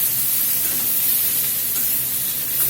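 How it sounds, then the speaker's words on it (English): Fajita vegetables steam and sizzle in a hot pan, a steady, dense hiss that holds evenly at close range with no pauses or talk. "just let them steam on themselves and pick up a little bit of color at the same time"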